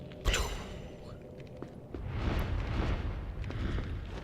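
Incendio fire spell cast in the Harry Potter and the Philosopher's Stone PS2 game: a sharp whooshing burst followed by a swelling roar of flame, moderately loud.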